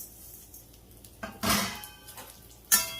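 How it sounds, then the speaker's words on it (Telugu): Bambino vermicelli tipped into hot ghee in a pan, giving a few close, bright rattling clinks and scrapes of metal cookware in short bursts, with no talking. "మన నెయ్యి వేడయ్యాక హీట్ అయ్యాక నేను బాంబినో వేస్తున్నాను"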